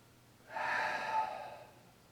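A single forceful exhale during a tai chi breathing exercise, a breathy rush of air lasting about a second, close and fairly quiet, with no talk.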